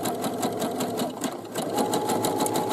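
Sewing machine zigzag stitching a side seam on a boomerang bag, a fast steady mechanical rattle of needle strokes, close and loud, running continuously without talk.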